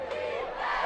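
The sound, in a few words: football crowd cheering to hype up the defense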